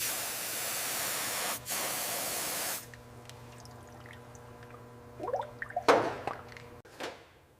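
A hissing spray of cleaner flushing out a varnished, sludge-clogged carburetor from a 1965 Sunbeam Tiger, a long steady blast for nearly three seconds, then quieter workshop sounds with a few short drips and splashes near the end.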